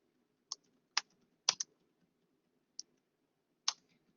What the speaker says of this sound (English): you are just going to hit the space bar one time and then type the next sentence